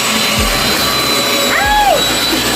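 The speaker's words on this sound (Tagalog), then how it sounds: "Sorry, natatanggal ang ating mini vacuum." A mini vacuum cleaner runs steadily with a loud, close, whining hum, and a short voice exclamation rises briefly over the motor.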